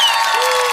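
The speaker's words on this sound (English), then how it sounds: "give him a round of applause." Studio audience applause at a dating show as a guest is welcomed on stage, a loud, continuous burst of clapping with some crowd noise, brief and steady.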